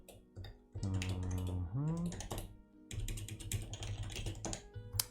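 Fingers typing blind on a computer keyboard while writing code, a steady patter of close, light clicks running throughout, with a brief humming or pitched voice sound heard over the keys early on.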